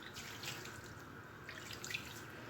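Water pours into semolina dough for Moroccan belboula with meat while cooking, a steady soft trickle that runs alone at low level for a few seconds.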